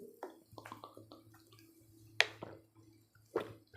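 Faint wet sips and small drips as water is drunk from a glass or bottle, a few soft swallowing and clicking sounds with two sharper taps, quiet and close.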